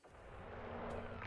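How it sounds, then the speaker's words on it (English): A geology cannon firing in the space exploration game No Man's Sky, a dense booming blast that swells and rumbles for over a second with a broad roar. "Geology cannon."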